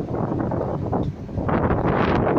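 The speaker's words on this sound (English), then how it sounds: "I do apologise about any wind" Strong wind buffets a microphone outdoors beside St James' Park stadium, a loud, continuous rumbling roar with gusty surges and no talk.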